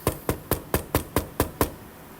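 Knuckles rap on wood eight times in a quick, evenly spaced rhythm, each knock sharp and close, followed by a brief quiet, with no speech.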